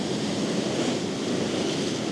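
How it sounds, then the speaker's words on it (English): Ocean waves crash on the shore in a steady, dense roar of surf, loud and continuous with some wind rumble, and no voices. "let me show you what it looks like when you're getting the impact, the crashing of the waves"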